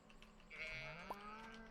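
A goat in a video game gives a single drawn-out bleat, close and fairly clear, over a soft steady background tone.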